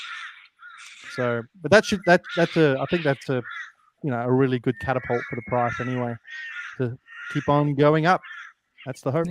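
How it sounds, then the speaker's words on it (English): Crows caw faintly in the background, their scattered harsh calls half buried beneath someone speaking continuously in the foreground. "and then I hear the birds in the background"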